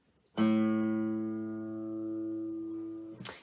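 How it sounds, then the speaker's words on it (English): One plucked open A guitar string rings a sustained low note for about three seconds, then is cut off by a short scrape. "If you don't fret anything and play the string what's called open, then you end up with an A sound"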